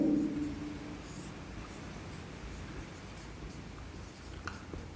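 Chalk or marker scratches softly and continuously across a board as a numbers lesson for sixth-grade maths is written out. The strokes are faint and steady over a quiet room.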